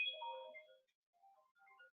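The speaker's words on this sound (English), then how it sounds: "that would be our telephony calling me to let me know that I am ready to connect with them" A phone rings for an Amazon Connect outbound call, a short electronic ringtone burst followed by a quieter trilling tone after a brief gap.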